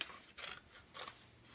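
Scissors snipping paper to shape a paper airplane's wings, two quiet, crisp cuts spaced apart with soft rustling in between.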